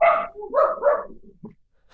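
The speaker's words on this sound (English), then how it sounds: "they were Graeme's dogs" Graeme's dogs bark close by: three or four quick, fairly loud barks in a row, then a shorter, fainter yip, with no talk.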